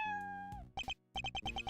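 A female cat meows in a run of short, evenly spaced calls, near and clear, following a sustained steady tone.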